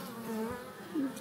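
Honeybees buzzing on a comb holding the queen, a close, steady droning hum with slight pitch wavering over about a second, no voices.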